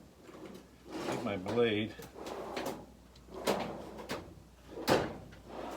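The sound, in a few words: drawer being opened to get a blade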